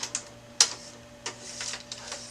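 A small green plastic slide on a Brother DR420 printer drum pushed back and forth, giving a few short, close clicks and scrapes in a quiet room.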